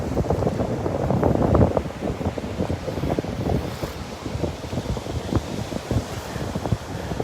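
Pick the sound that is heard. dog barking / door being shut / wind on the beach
wind on the beach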